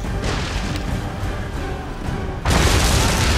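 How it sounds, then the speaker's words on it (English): A wooden enemy ship is smashed apart by an upgraded naval ram in Assassin's Creed III, heard as a dense, continuous crashing roar that jumps louder and heavier near the end. "I outright destroyed him because I had the upgraded naval ram"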